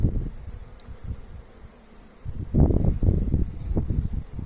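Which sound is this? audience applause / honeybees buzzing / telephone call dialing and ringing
honeybees buzzing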